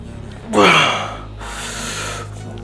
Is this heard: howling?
no